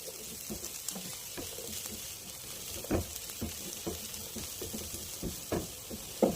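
Cooked meatloaf is stirred in a hot pan with potatoes, pepper and Magic Sarap seasoning, a steady sizzle broken by scraping spoon strokes and soft thumps.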